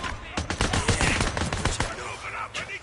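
Rapid bursts of gunfire in the video game Days Gone, loud and close, with sharp shots crowding together through the first two seconds, then thinning to a few isolated cracks.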